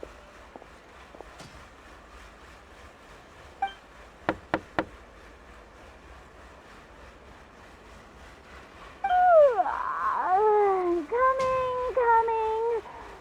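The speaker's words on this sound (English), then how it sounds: "Okay, I'll go knock on the door." A few quick knocks on a door in the video game Genshin Impact, crisp and close, three sharp raps in a short burst, followed by a character's voice answering over soft background ambience.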